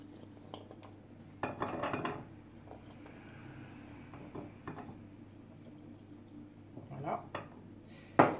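Cherry tomatoes and radishes being placed on a plate, a few soft clinks and knocks against the dish scattered over a quiet kitchen, with a sharper clatter at the end.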